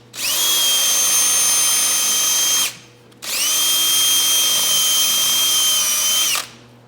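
A power drill with a centering bit drills out the riveted track cleats on a vintage Arctic Cat snowmobile track, in two loud, steady whining runs of about three seconds each, separated by a short pause.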